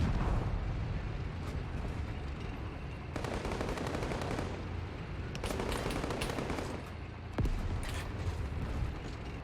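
Dense, continuous gunfire and machine-gun bursts in a World War II Russian campaign video game, German invasion of a Russian city, with booming explosions mixed in, loud and unrelenting across the whole stretch with no talking.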